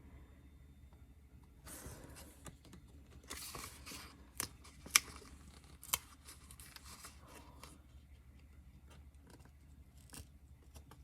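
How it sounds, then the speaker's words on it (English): Scissors snipping paper for a Dutch door creative journal spread, quiet close cuts with a few sharper snips and crinkles over a low steady background hum. "this requires a little extra cutting here"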